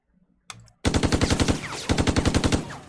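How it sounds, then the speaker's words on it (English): Heavy machine guns firing in the Lock N' Load Tactical game, two loud close bursts of rapid evenly spaced shots, each about a second long, after a brief click and short sound at the start. "We are going to fire our HMGs."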